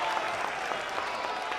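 Crowd applauding in a gym at a high school basketball quarterfinal game, Damien High School's pit, a dense steady patter of clapping throughout with faint background voices.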